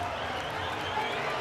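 Crowd cheering and applauding at a Penn State vs Nebraska men's college wrestling dual, a steady, dense roar of many voices and clapping filling the arena throughout.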